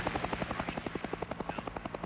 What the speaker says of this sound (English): Yeah, just helicopters.